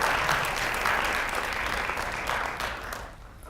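Seminar audience applauding to welcome a business speaker, steady dense clapping from a roomful of people that slowly tapers off toward the end.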